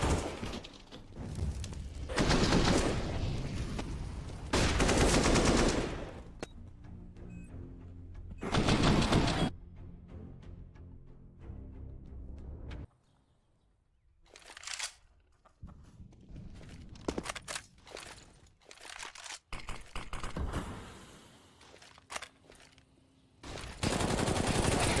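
Video-game gunfire in a competitive esports match, including a Tec-9 pistol, comes in sharp loud bursts of rapid shots separated by quieter gaps, with scattered single cracks and footsteps between volleys.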